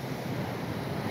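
Low waves wash ashore at Manchebo Beach, Aruba, heard as a faint, steady seaside hiss with no distinct breaks and no voices.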